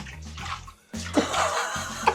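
Water splashes and pours onto a clogged drain in a small apartment bathroom in South Korea, in short bursts with a brief pause between them, close and fairly loud.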